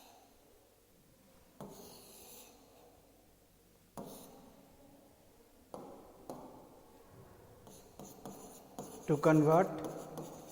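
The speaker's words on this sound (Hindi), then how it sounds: "तो उसको मैं लिख देता हूँ यहाँ पे।" Marker or chalk strokes on a classroom board in a Class 5 math lesson, sparse taps and short scratchy bursts spaced a couple of seconds apart, quiet, with a teacher speaking briefly.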